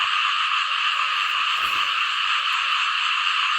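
Frogs croak in a flooded rice field after heavy rain, a dense, steady, loud chorus of overlapping calls that fills the whole stretch.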